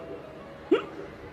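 A voice imitates a single short hiccup, one abrupt vocal gulp over a faint background hum.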